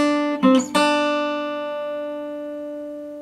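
A guitar note fretted at the third fret of the second string, played in a song lesson: a couple of quick plucks, then one clear note rings out alone and slowly fades.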